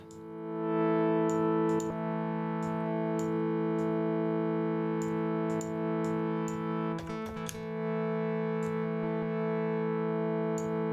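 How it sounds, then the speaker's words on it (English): Bitwig Polymer synthesizer playing its phase distortion oscillator: a loud, steady, buzzy sustained tone rich in harmonics, held for about ten seconds with a few brief clicks and a short wobble near the end, no talking. "Let's try this phase distortion oscillator."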